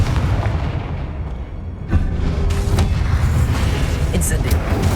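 A Confringo spell in Hogwarts Legacy bursts in a loud, booming explosion with a sharp crack, followed by rumbling, crackling debris and background game noise, with voices over it.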